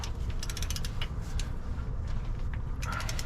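A torque wrench tightening 5/8 bolts with lubricated threads on a 1979 Jeep CJ-7, rapid ratcheting clicks in short bursts with creaking metal, close up, over a low steady rumble.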